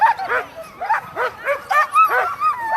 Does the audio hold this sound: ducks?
no